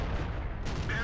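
A single heavy cannon blast from a Type 61 tank in World of Tanks, loud and close with a sharp report and a brief rumbling tail.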